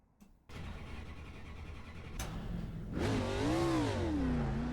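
A race car engine at Nashville Fairgrounds in iRacing starts with a click, settles into a steady idle, then revs up with a rising and falling whine, heard close and alone.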